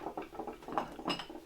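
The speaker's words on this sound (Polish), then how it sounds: "otworzyć, zdjąć tutaj denko tego garnka" Metal clinks and taps from handling the bottom of a 1972 GE.22-00 electric pot with bakelite feet, a quick irregular patter of light knocks close by.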